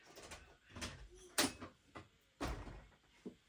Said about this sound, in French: On va commencer par ouvrir cette porte